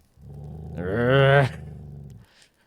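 A man imitates a growl, a deep rumbling voice that swells louder, peaks, then trails off into a low fading rumble.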